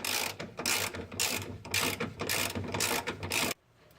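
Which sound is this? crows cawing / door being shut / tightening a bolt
tightening a bolt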